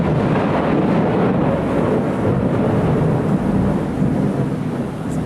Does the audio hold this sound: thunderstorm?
yes